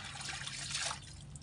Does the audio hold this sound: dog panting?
no